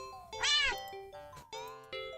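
A cat in a horror video game meows several times, one loud drawn-out cry followed by shorter, softer mews against a faint musical backdrop.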